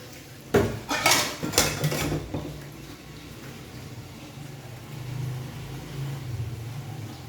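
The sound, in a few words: scrubbing a steel ice bowl with dishes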